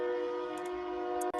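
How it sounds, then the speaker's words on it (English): A train passing near a home sounds a steady, sustained horn tone that holds evenly, moderately loud, then cuts off abruptly with a brief rattle. "Oh, I'm not the only one that lives next to a train."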